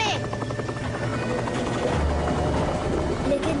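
Propeller aircraft in flight, a loud continuous droning engine buzz close by, with voices talking over it.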